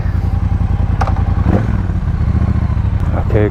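A 2017 Triumph Bobber motorcycle engine idles and pulses steadily up close, its low, continuous rumble interrupted by a few brief clatters.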